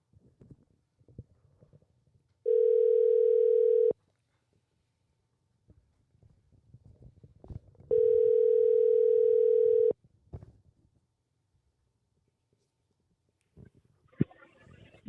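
Telephone ringback tones during a call, two long steady beeps separated by a pause, with faint rustling and handling noise between them.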